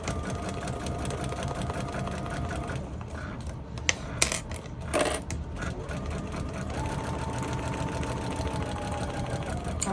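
A sewing machine stitches a temperature quilt with a steady, fast mechanical whir and needle chatter, pausing briefly in the middle for a short back stitch before running on at an even pace.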